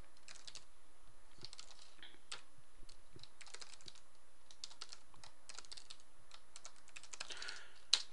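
Java code being typed on a computer keyboard: a close, steady run of quick key clicks in uneven bursts with short pauses, and one sharper tap at the end, with no speech.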